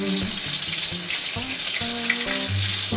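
Bacon sizzles and crackles steadily in a pan, a dense hiss running throughout with faint kitchen clinks and low background tones underneath.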